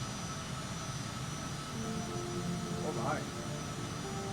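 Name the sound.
airplane taking off in a flight simulator video game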